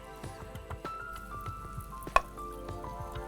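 Chicken pieces frying in hot oil, a soft continuous sizzle with scattered pops and one sharp crackle, fairly quiet and heard alone.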